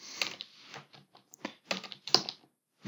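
Quick bursts of keystrokes on a computer keyboard while entering a rate analysis in an Excel spreadsheet, close and fairly quiet, in short irregular clusters with brief pauses and no talk.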